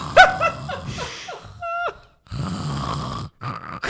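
A man imitates another man's snoring with his voice, producing a few loud, rasping snore sounds, then breaks into laughter and chuckles before falling quiet briefly.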